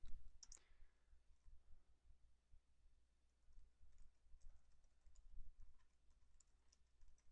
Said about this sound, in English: So I'm going to type in my domain name /wp-admin.